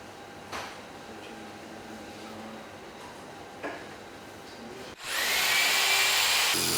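A power drill driving screws: quiet room tone with a couple of faint knocks, then a loud, close, steady whirring burst of under two seconds near the end.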